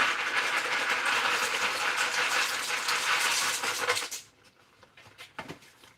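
A pot of water at a rolling boil on a home stove, with pasta about to go in: a steady loud hiss and bubbling roar that cuts off abruptly, leaving faint clinks and quiet kitchen sounds.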